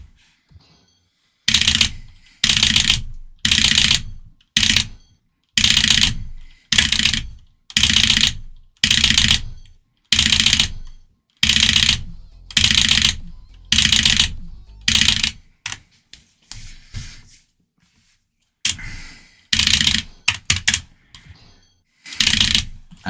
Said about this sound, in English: I'm not used to playing on this keyboard.